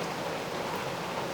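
Hard rain falls outside a back room, a steady, dense hiss of drops with no breaks, moderately loud and unbroken throughout.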